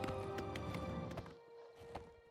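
Horse hooves clopping in the game Oblivion, a brisk run of close, even hoofbeats that fades somewhat toward the end, with no talk over it.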